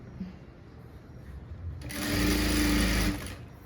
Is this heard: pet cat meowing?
no